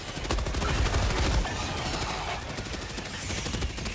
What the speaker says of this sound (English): Pretty sure the mech's shooting it